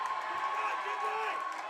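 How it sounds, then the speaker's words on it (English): Spectators at a high school volleyball match between the Mountain View Spartans and the Palo Alto Vikings cheer and whoop in a steady, moderate roar through a gym, with commentary running over it. "Crowd into it here in the early going."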